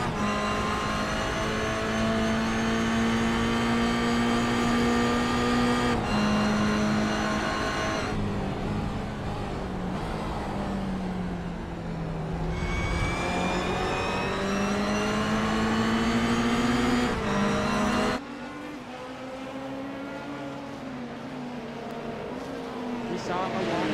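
Race car engines from BMW M2s drafting at Daytona International Speedway in a sim racing league, a steady loud whining drone that rises and falls in pitch, with a sharp change near the end; commentary voices run beneath.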